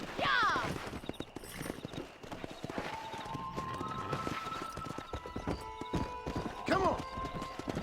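Horse hooves clip-clopping at a gallop in Red Dead Redemption, a steady rhythmic beat lasting throughout, with a whinny near the start and end, under continuous game sounds and a voice talking.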